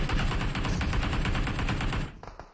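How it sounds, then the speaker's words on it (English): Rapid automatic gunfire in a video game battle royale match, a dense, evenly spaced stream of loud shots lasting about two seconds before cutting off, followed by a few fainter scattered cracks. "They're going to shoot some bullets blindly"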